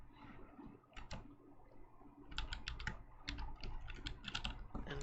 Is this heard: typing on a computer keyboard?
yes